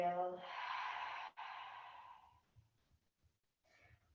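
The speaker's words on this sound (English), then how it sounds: "exhale." A slow, breathy exhale during a yoga breathing exercise, a long airy sigh of about two seconds that starts after a short intake, breaks briefly and trails off, followed by faint quiet shuffles.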